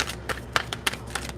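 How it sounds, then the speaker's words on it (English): Tarot cards being shuffled in a quick riffling run, with several crisp bursts of card flicks and slaps close up, with no voices. "I want to give it a really good shuffle."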